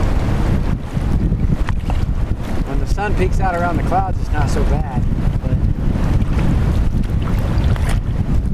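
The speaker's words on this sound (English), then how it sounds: "You guys probably can't even hear me with all this wind." Heavy wind buffets the microphone in a constant loud roar while kayaking on a cold, cloudy river, with someone talking over the gusts.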